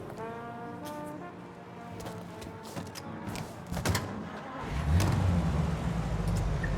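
A car driven in the video game Mafia Definitive Edition, an engine hum with a horn-like tone early on, rising to a louder, steady rumbling drive in the final seconds.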